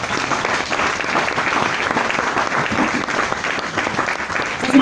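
A church congregation applauds to acclaim the Lord, giving a loud, dense, steady clapping from a crowd filling the room, sustained without a break.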